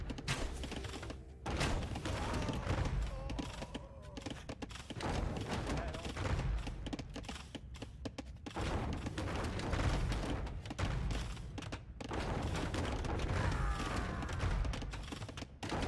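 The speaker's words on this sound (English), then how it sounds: "Good shots. The village is going down, and the tower is going to crumble now." Siege weapons in Age of Empires II pound a village and a defensive tower, a dense run of thudding impacts and crashing debris that carries on steadily across the clip under a continuous battle din.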